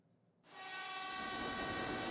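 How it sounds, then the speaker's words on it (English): In the video game Steins;Gate Elite, a train roars into a station. After a brief hush, a loud, high screech cuts in abruptly and holds steady, close and sustained. "the train comes screaming into the station"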